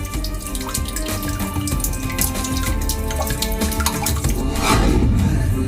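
Stream of water gushing from mountain rock inside Shiv Ganga cave in the Kangra region of Himachal, a steady broadband rush that swells louder near the end, with no voices.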